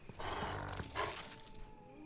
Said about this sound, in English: No, doggy, I don't have any treats for you.